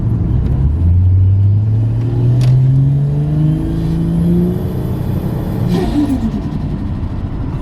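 A modern car cruising through Brisbane revs up through its gears, the engine note climbing in repeated rising sweeps that sound loud and close over a steady road rumble, then easing off into a lower drone.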